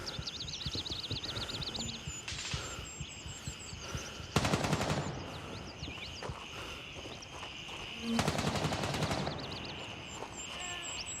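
Video game shooting-range gunfire crackles in two loud rapid automatic bursts with scattered single shots, set over a busy game soundscape of warbling tones and clopping hooves, with no voices.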